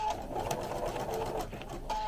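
Sewing machine back-stitching chenille fabric, a steady close motor whir with rapid needle clatter running continuously, briefly easing near the end.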